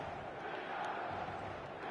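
Stadium crowd in a PES football video game, a dense and steady roar of many voices that swells slightly, with no distinct words.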